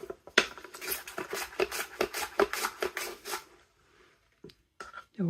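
A knife slicing a few rounds off a red onion on a cutting board, giving a quick run of crisp, rhythmic cuts up close, then a pause and a couple of isolated knocks.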